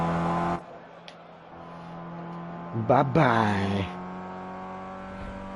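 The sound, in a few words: race cars driving in Project CARS video game at Le Mans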